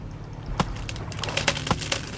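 A chopped tree falls in the Stranded Deep survival video game, heard as a burst of sharp cracking and splintering wood with several snapping knocks over a low background hum.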